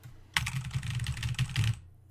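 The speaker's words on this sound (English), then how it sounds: "As much as I like my keyboard, and it's actually a really awesome keyboard," A computer keyboard is typed on in a quick, continuous run of close clicking keystrokes lasting under two seconds, with no voices.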